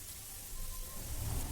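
Pumpkin snack pieces fry in hot oil over a high flame, giving a soft, steady hiss and crackle that swells slightly toward the end, alone without speech.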